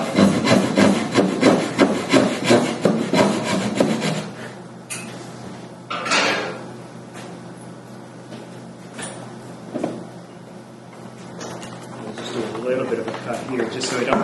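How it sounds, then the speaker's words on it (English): A wood chisel pares and rasps across the wooden parts of a Queen Anne side chair, with a run of rapid rhythmic scraping strokes followed by scattered single scrapes and knocks, close up and fairly loud. "I'm just going to do some relief cuts so it's easier for the chisel"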